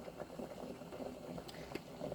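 Whole grain rice water at a rolling boil in a pot in a home kitchen, a soft continuous bubbling hiss with small pops, steady and fairly quiet throughout.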